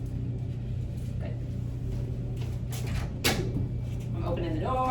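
A house door opens during a dog training session, with a couple of brief knocks and a soft creak over low steady rumble, while a voice talks in the background.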